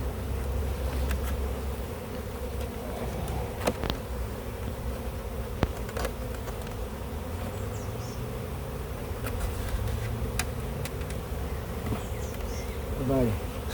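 Honeybees hum in a steady, close buzz around an open hive, with individual bees passing near now and then and faint handling noises underneath.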